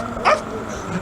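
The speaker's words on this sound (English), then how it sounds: "I found myself a little puppy named Benjamin" A puppy named Benjamin gives one short, sharp yip, loud and close, with faint chatter in the background.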